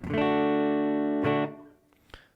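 A single guitar chord is strummed and rings out bright and full before fading, followed by faint string squeaks and fret noise.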